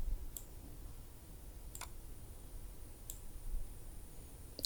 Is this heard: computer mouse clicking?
yes